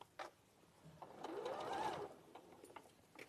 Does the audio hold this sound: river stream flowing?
no